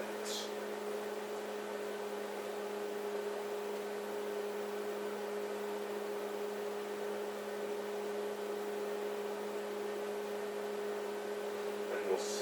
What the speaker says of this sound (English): you put the eggs in the microwave. Cook for, let's say, a minute 20 for both eggs